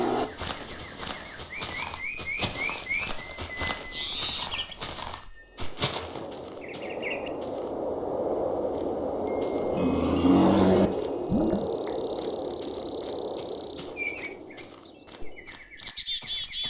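Birds chirp and tweet from leaf blocks in a tree in modded Minecraft, with scattered calls over steady game ambience and a swelling, rushing noise midway.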